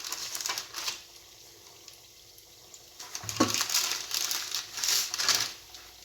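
Bomba dough sizzles and crackles as it fries in hot oil, a busy frying hiss that quiets briefly in the middle before surging again, with no one talking.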